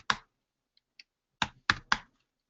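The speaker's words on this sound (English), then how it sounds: "I'm speaking and typing at the same time" Computer keyboard keys clack in a quiet room: a single press, a couple of faint taps, then three crisp close strokes in quick succession.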